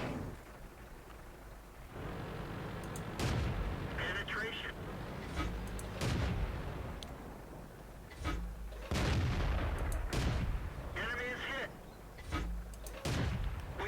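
Tank guns boom repeatedly in World of Tanks, on tier 2-5 cruiser light tanks, with sharp shots at irregular intervals amid battle noise while someone talks throughout.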